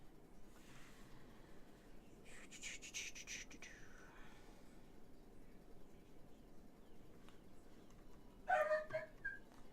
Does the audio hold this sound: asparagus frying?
no